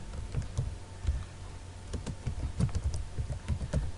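Fingers typing on a computer keyboard, a close, quick and uneven run of light key clicks with brief pauses, alone with no talking.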